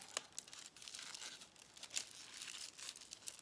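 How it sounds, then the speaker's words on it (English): Thin aluminium foil crinkling and crackling as it is folded over and pressed around an egg, a close, continuous rustle with sharper crisp bursts throughout. "because this is foil, it's easy to conform, and you want to start pushing it in and shaping it around your egg"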